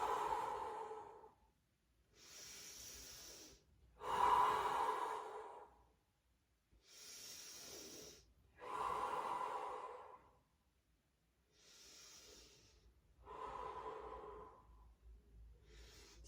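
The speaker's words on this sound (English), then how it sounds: "long deep breath out." Slow, deep breaths out during a calm yoga flow, about seven long airy exhales spaced a couple of seconds apart, soft and close with quiet pauses between.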